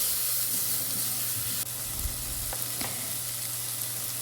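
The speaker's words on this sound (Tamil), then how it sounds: "தக்காளியும் சேர்த்து நல்லா மிக்ஸ் பண்ணி விட்டுக்குவோம்." Chopped tomato sizzles and hisses steadily in a hot pan for mutton rib bone soup, with a few scrape-and-stir knocks of a spoon partway through; loud and close, no voices.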